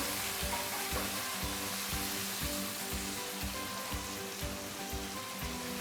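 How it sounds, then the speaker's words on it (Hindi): Spices and tomatoes frying in a pan for a ridge gourd (tori) sabzi, a steady close sizzle with a faint rhythmic stirring scrape running through it, no talking. "थोड़ा सा मसाले को भूनेंगे।"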